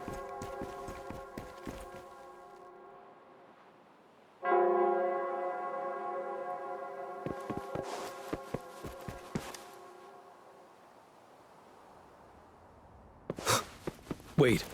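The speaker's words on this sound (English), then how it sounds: "It's the Nell Squares bell." Nell Square bell in the video game Wuthering Waves rings out as one sustained, resonant tone that slowly fades, followed by scattered clicks and thuds and a few sharp knocks near the end.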